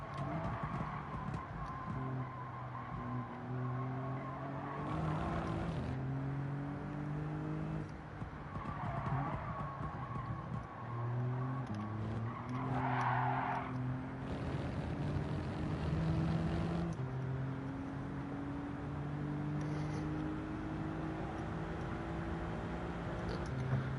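Touring cars race around Fuji Speedway in Gran Turismo 7, engines revving up and down through gear changes with bursts of tire squeal and skidding, a dense, continuous roar from start to finish.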